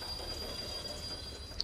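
Freight train idling at a station while its coal cargo is unloaded in the city-building game Workers & Resources: a steady, faint mechanical rumble with a thin high whine and a small click near the end.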